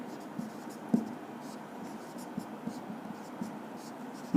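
Chalk or marker scratches across a classroom board in short, soft strokes with small taps between them, faint and close, under a quiet room hum.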